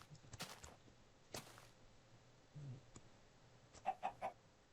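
Minecraft chickens clucking in a quiet game scene, a few soft clucks midway and then three quick, distinct clucks near the end, with faint clicks and footsteps around them.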